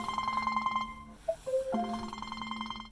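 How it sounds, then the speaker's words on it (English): A phone ringtone plays for an incoming call, a bright repeating electronic melody with sustained tones that pauses briefly midway with a couple of blips, then resumes, loud and close, with no talking. "I'm trying to receive a phone call right now"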